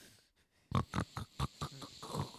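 A person imitates a dying pig, oinking and snorting in a series of about seven short, loud, rhythmic grunts after a quiet start, fairly close.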